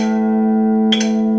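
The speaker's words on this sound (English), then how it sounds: "String 5 should sound like this." An open A string on a Stratocaster electric guitar rings out alone, a steady sustained note with clean harmonics, briefly joined near the end by a short chiming electronic tone.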